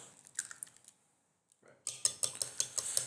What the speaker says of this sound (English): So I'm beating the egg